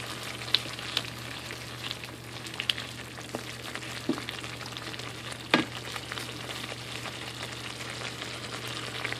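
Homemade salsa reduces in a pan, a constant close frying sizzle with scattered pops and occasional utensil clicks, under a low steady hum.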